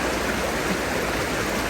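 River water rushes in a steady, close, broadband wash during clothes washing in the river, with no pauses or voices.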